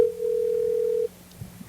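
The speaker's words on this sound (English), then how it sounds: "It's a ringing. We're calling Freddie the producer." A telephone ringback tone heard while calling a producer: one steady, loud electronic tone lasting about a second, then a quiet pause with faint low background noise.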